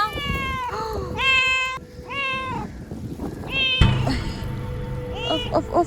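A starving, disabled cat cries loudly and repeatedly while alone in a field, giving long strained meows in close succession with brief gaps and some rustling in between.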